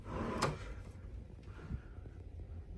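Storage drawers in a cruise ship cabin being opened or closed, one quick knocking slide near the start, then a quiet room with faint low rumble.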